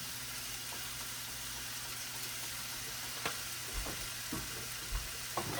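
Pancit sizzling in a hot pan on the stove while being stirred, a steady frying hiss with a few soft scraping knocks from the utensil, close and fairly quiet, with no talking.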